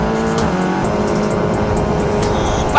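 Formula 4 race cars at speed on the Homestead, Florida circuit, a steady loud engine drone with shifting harmonic pitch from several cars on track, plus a brief sharper burst near the end.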